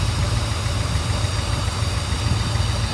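Mercedes 380SL engine idling, a close, loud, steady low rumble with an even pulsing throb and faint mechanical clatter, unchanging throughout.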